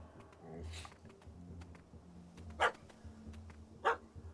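A dog in The Witcher 3: Hearts of Stone video game barking twice, sharp and fairly close, amid game ambience and low murmuring voices.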